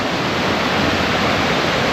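A fast-flowing river rushes over eroded rocks in a steady, dense roar, loud and close, unbroken throughout with no voices.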